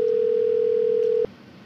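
A steady telephone dial tone hums loudly and evenly while a call is placed to the Victoria County Sheriff's Department, then cuts off abruptly just after a second, leaving only a faint line hiss.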